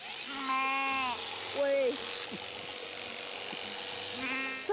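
Sheep and lambs on a farm bleat in loud, wavering calls, one long bleat early, a shorter one after and another near the end, with a person speaking briefly between them.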